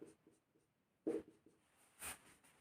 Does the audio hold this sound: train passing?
no